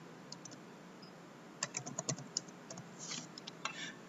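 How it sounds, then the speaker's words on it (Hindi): Typing on a computer keyboard: soft, close key taps in uneven bursts, starting sparse and growing into a quicker run of clicks, heard alone. "जैसे कि मैं इसमें इंट्रोडक्शन टाइप कर देता हूं।"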